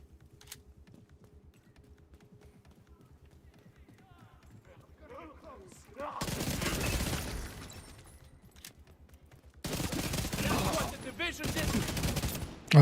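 Gunfire from flame rounds in the video game The Division 2, two long loud bursts of rapid automatic shots separated by quieter stretches, with a person talking and faint keyboard clicks underneath.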